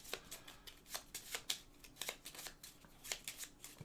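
A deck of cards is shuffled for a Pandemic Hot Zone board game, giving a quick run of crisp riffling bursts in an uneven rhythm, close and fairly soft, with no talking over it.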